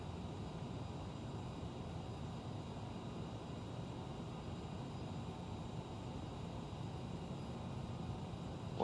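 Steady, faint jet engine roar of a CRJ 900 airliner in Microsoft Flight Simulator, a continuous broadband hum holding level with no talking.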